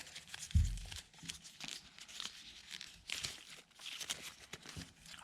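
A sheet of origami paper is rolled up tightly while an X-Wing is being folded, giving repeated close crinkles and crumples in uneven bursts.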